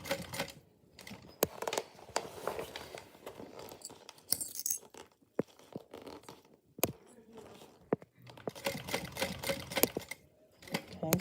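A sewing machine stitches around a handmade bag in short, uneven bursts of rapid clatter, separated by pauses and small handling noises as the fabric is turned.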